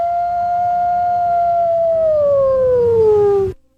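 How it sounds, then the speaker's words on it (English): Hockey fans, Minnesota Wild supporters, howl in unison like wolves, making one long, loud, sustained tone that slowly slides downward for about three and a half seconds before cutting off abruptly, with crowd noise underneath. "Yeah, we still howl."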